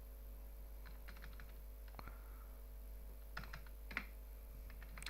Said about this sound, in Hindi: जिसके जो अमाउंट होंगे वो अमाउंट टाइप करेंगे।